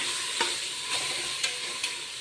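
Onion and tomato frying in a pan for carrot rice, stirred with a spoon: a continuous sizzle with four or five soft scraping strokes at regular intervals.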